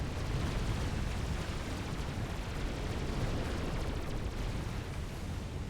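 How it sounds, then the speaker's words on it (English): Missile strikes pounding a base during a Supreme Commander real-time strategy skirmish, heard as a steady, dense rumble of distant explosions and gunfire that stays at an even, fairly low level throughout. "Something's hitting us with missiles"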